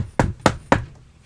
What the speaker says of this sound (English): Someone's knocking on my apartment door.